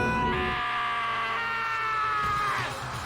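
A drawn-out anguished scream from the video game Danganronpa, loud and sustained for about three seconds with a wavering tone.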